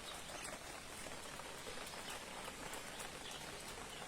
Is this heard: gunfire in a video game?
no